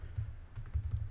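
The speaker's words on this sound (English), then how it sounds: "So LED, I'm typing LED lights." Computer keyboard keys tapped in a quick, uneven burst while someone types a search query, close and fairly quiet, with no talking.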